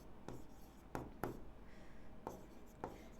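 Chalk or pen on a board makes several short scratchy strokes at irregular intervals, close and fairly quiet, with no talking.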